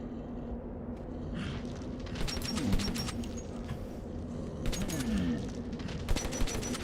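Full-auto gunfire in the video game Metro 2033, two faint clusters of rapid shots heard at a distance over a low steady background hum.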